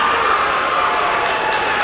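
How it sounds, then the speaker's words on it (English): Basketball crowd in a Beekmantown gym cheering during a boys' semifinal game against Plattsburgh, a dense, steady roar of voices filling the whole short stretch, loud and close. "That brings the Beekmantown crowd to their feet"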